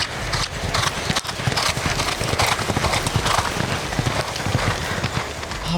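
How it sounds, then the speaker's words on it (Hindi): A horse gallops fast, its hooves pounding in a dense rapid rhythm, loud and close, over continuous broadband noise. "आप बड़ी स्पीड से भगा रही थी घोड़ा"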